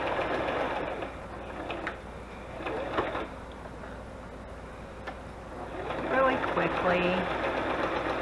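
A sewing machine runs brown thread around a matchbook in quick stitching bursts that start and stop, close and moderately loud, while a person talks over it.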